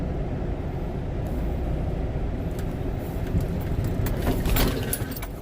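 Semi truck engine idling and rumbling low and steady while backing up to slide the tandems, with faint rattling and clinks over the drone, close and continuous.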